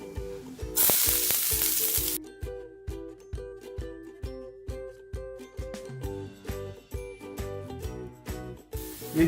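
Chopped onion hits hot oil in a pan with a loud burst of sizzle lasting about a second. Rhythmic background music then takes over, and the hiss returns briefly at the end.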